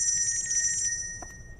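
A telephone rings with a steady, high electronic ringtone that continues unbroken for under two seconds, with no voices over it.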